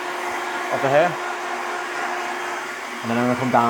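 A hair dryer blows steadily as medium-length hair is dried backwards during a mod haircut, a constant whooshing hum throughout with someone talking over it.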